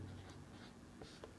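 Soft scratching of a pen or pencil writing a maths formula by hand, very faint and close, with a few short strokes and small taps, no talking.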